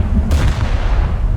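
Heavy naval gunfire from the battleship Scharnhorst in a warship video game, a single deep boom ringing out over a constant low rumble of engine and sea noise.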